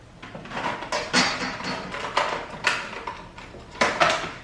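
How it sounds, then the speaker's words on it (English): A plastic craft cutting mat for Cricut work is handled and shifted on a table, giving a series of close, hollow knocks and scrapes spaced every half second or so, with no talk. "Let's grab our cutting mat."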